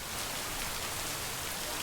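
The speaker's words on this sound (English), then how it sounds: "It's absolutely pouring." Heavy rain pours down outdoors in a dense, steady hiss that fills the whole clip, loud and constant with no talking.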